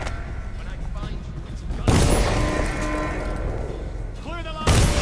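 Gunfire in the video game Dishonored, a steady stream of shots running under a continuous wash of game noise, with a louder burst near the end and a voice talking over it.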